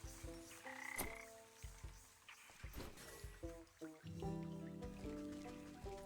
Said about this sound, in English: There's a frog.